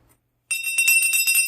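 A small decorative bell rings alone for about a second after a brief silence, its bright shimmering tone repeating in quick jingling strokes, close and clear.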